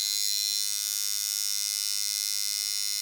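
A coil tattoo machine tuned for shading runs in a steady, loud electric buzz that holds evenly throughout, close and alone with no talk.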